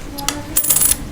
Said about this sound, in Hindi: और ये 2 रुपये का सिक्का।